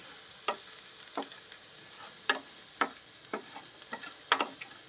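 Garlic frying in a pan on a gas stove over lowered heat gives a steady soft sizzle, broken by scattered sharp crackles and pops from the oil. It is heard close, with no talk.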